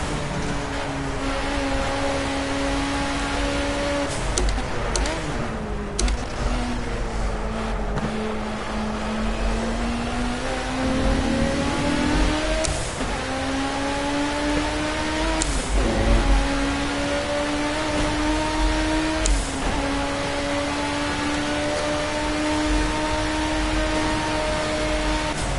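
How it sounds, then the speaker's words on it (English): A BMW engine in the Project Cars racing game drones steadily as the car drives, pitch rising and falling through gear changes, with several brief shift breaks and a dense, loud, continuous tone. "Already I am liking how this BMW is driving. Sounds nice."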